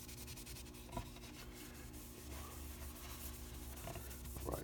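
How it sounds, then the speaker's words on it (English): A hand rubs out a nitrocellulose lacquer guitar finish, a steady close scraping friction with short repeated strokes and small bumps, quiet and continuous without speech. "Right, so we rubbed that out."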